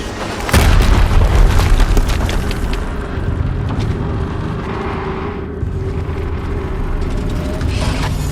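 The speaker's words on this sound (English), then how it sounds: "Another explosion." A loud, deep explosion booms in the video game Horizon Zero Dawn, bursting suddenly and then rumbling on as a long, heavy roar with crackling debris.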